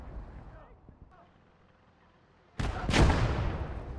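Heavy gunfire from the WWII strategy game Gates of Hell, Commonwealth faction: after a quiet stretch with speech, two loud, close blasts erupt in quick succession and leave a rumbling tail.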